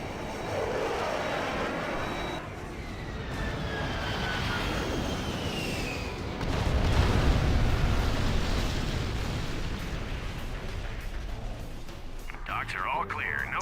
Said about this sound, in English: Launching airstrike. watch out for the mother of all bombs.